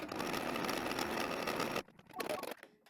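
An embroidery machine stitching an applique tack-down for a personalized birthday shirt, a dense steady rapid whir that stops abruptly, followed by a few faint clicks and rustles.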